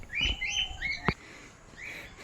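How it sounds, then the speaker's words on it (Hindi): A parrot and its chick give several short, bright chirping calls close by, with a brief sharp click in between and soft rustling in the background. "ये रहा पैरोट और पैरोट का बच्चा"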